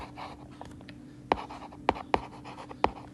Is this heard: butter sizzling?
no